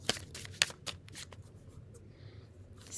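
A new deck of large Tao oracle cards being shuffled, with quiet papery riffles and flicks in short bursts, soft and close.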